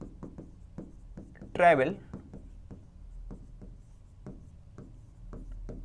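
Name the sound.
writing out a maths solution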